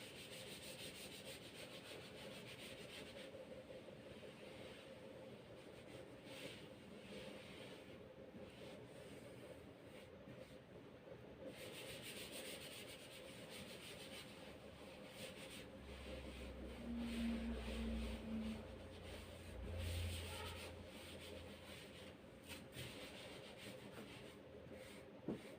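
An eraser rubs steadily over paper, wiping out a hand-drawn map of India's river basins, a soft continuous scrubbing heard close and faint, with no speech.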